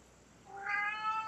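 A pet cat named Nikon lets out a single drawn-out meow, close and clear against a quiet indoor room.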